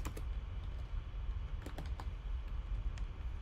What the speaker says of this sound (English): Then, when you type your search